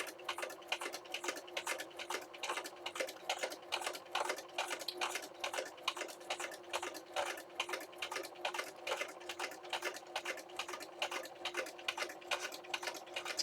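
Sewing machine needle punching through plastic sheet in a steady, rapid stitching rhythm of evenly spaced clicks, close and moderately quiet, with no talking.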